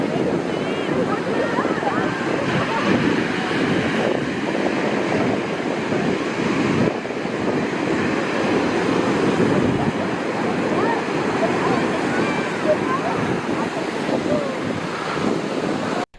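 Ocean waves and rushing water pour past continuously, loud and broad with wind buffeting the microphone, a dense unbroken roar throughout.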